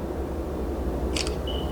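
A Samsung Galaxy Z Flip 7 taking a selfie: a brief, crisp double-click shutter sound over steady low background rumble, followed by a faint short electronic tone.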